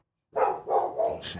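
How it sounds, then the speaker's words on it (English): Dogs in the background let out three quick, moderately loud barks in a row, fairly close and clear with no talking over them. "Sorry about the dogs in the background."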